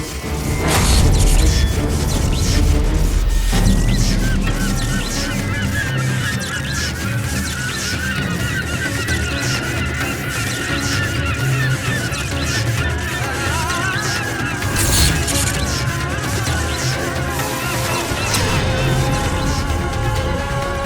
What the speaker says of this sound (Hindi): पक्षी भी भेद नहीं सका इस बाधा को। उसे टकराकर अपने प्राण गंवा बैठा।